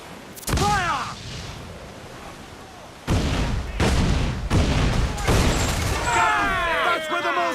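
Ship cannons fire in a naval battle in the video game Assassin's Creed 4 Black Flag: several loud booming volleys with crackling bursts, and voices shouting between and under the shots.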